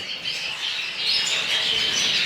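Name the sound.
canaries singing in a breeder's aviary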